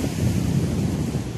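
Sea waves surge and break steadily on Ras al Khaimah beach at night, a continuous loud roar of surf mixed with wind buffeting the microphone.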